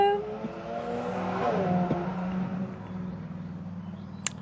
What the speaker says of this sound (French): Je laisse passer la moto.